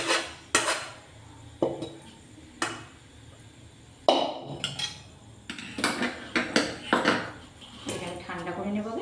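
A cooked Gobindo bhog rice sweet mixture is scraped and spooned from a pan into another pot, with repeated metallic clinks and scrapes close by and someone talking in between.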